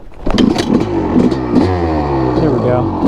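A Honda CR250R two-stroke dirt bike revs up nearby, its engine rising and falling in pitch with a raspy, choppy clatter while someone speaks briefly over it.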